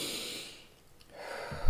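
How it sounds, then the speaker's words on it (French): A deep breath during a guided meditation: a soft, drawn-out airy exhale, a moment of silence, then another breath, close and quiet. "tu peux revenir complètement à toi en prenant une grande respiration"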